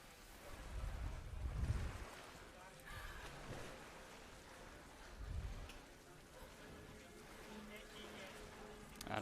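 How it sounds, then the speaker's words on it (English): Rushing water from a waterfall in the video game Tomb Raider (2013) makes a steady, spray-like wash. It surges in two louder swells while a person talks quietly throughout. "we have to go through this waterfall"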